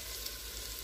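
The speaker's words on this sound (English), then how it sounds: "And we're going to sear this." Meat slices sizzling as they sear in a hot pan for carne guisada, a steady, even hiss of frying that runs unbroken at moderate loudness with no voices.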